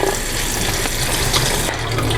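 Job's tears grains (jali-jali) being washed in a bowl under running tap water, a steady splashing rush with grainy rattling, close and alone.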